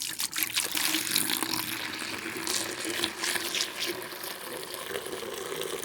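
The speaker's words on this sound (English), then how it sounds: "And I'm pouring it directly into the pitcher." Homemade cranberry sauce wine must is poured straight into a pitcher, making a continuous close gurgling, splashing flow of liquid that holds steady throughout.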